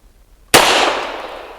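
A Century Arms Centurion 11 pistol fires a single sharp shot of cheap Russian ammunition after a moment of near silence, loud and close, with a reverberant tail trailing off.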